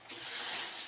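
A window blind mechanism being worked open and closed in a newly installed room, giving a steady close, dense ratcheting whir that runs without pause for under a second.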